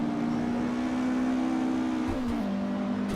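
Porsche 718 RS Spyder race car engine in Assetto Corsa, a steady high droning tone held in gear, then dipping slightly with a gear change, continuous and close.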